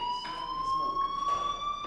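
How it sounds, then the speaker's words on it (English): Fire alarm in Life is Strange: a loud, continuous high electronic tone drones steadily throughout, with faint pulsing swells underneath and no talking. "do you hear that fire alarm?"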